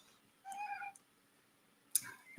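A cat named Bagheera, a small pet kitten, gives two short meows indoors, a longer tonal one followed about a second later by a brief sharper call, close and fairly clear with quiet room tone between.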